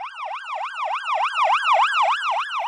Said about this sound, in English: Just imagine the ambulance is coming towards you and then racing past you into the hospital.